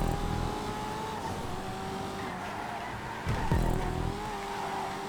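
A Coquette sports car races in GTA 5, its engine a steady loud drone. A brief surge near the end suggests a gear change or acceleration, with no voices.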